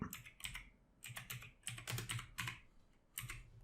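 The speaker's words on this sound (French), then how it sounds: "je vais faire attention de ne pas faire de faute de frappe" A password is typed on a computer keyboard, with uneven bursts of close, crisp key clicks and brief pauses between groups of keystrokes.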